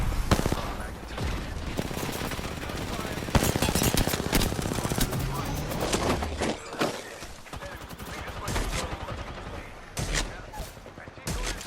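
Dense automatic gunfire from the Apex Legends shooter game rattles loudly and almost continuously in rapid bursts, with a few heavier impacts and occasional player talk underneath.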